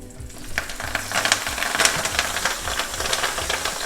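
Whole garlic cloves, spicy chili and whole parsley pieces sizzle in a hot pan of oil, a steady close crackle with a few louder spits and a low idling hum underneath.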